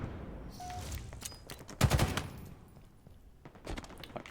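Sniper gunfire in the game Aliens: Dark Descent comes in a sharp burst of shots near the middle, with scattered crackling bursts before and after against a murky background rumble.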